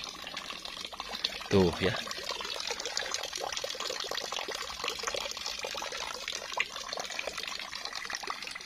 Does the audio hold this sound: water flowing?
yes